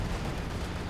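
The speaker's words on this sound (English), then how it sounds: "Here comes the Star Artillery" An artillery barrage in Company of Heroes 2 gives a dense, continuous rumbling wash of explosions, moderately loud and steady across one brief second with no talking.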